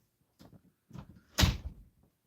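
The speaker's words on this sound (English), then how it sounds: "Shut the door, bro." A door is shut indoors: a couple of soft bumps and shuffles lead into one firm thud of the door closing, with a short rattle after it.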